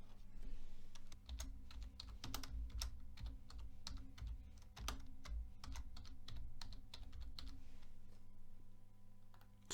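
Quick, uneven keystrokes tapping on a computer keyboard, a close and steady run of clicks with short pauses, over a low constant hum and with no one speaking.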